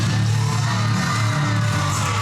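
A live wrestling crowd cheers, whoops and yells in a loud, dense roar that holds steady throughout.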